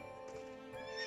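Horse in the video game Fantasy Life giving a short tonal whinny over a steady background of game music, heard alone without talk.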